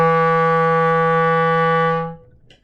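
A single clarinet F sharp held steady and clear for about two seconds, then cut off, alone with no talking.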